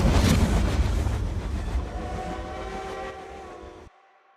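A train rolls along in a Demon Slayer anime scene, a loud, dense mechanical rumble with a whine and rattle above it that slowly fades over about four seconds before cutting off abruptly.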